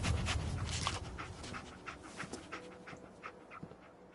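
Dog companion panting in Fallout 4, quick rhythmic breaths close by with a few sniffing bursts, steady and unaccompanied by talk.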